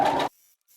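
Sewing machine stitching along a skirt hem, a dense whirring buzz that runs briefly and close, then stops abruptly into near silence.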